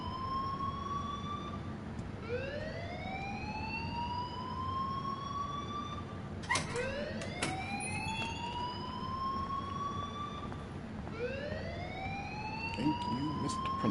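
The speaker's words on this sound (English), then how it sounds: "please turn off that alarm since that's your job" A rising, repeating electronic alarm wail in the video game Life Is Strange, cycling upward in pitch roughly every two to three seconds, loud and steady over a low background hum, with a brief thump midway and no talk.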